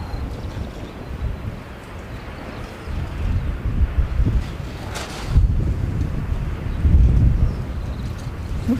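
Wind buffets an outdoor microphone with steady low rumble. Stronger gusts swell and fade through the whole stretch, and no voices are heard.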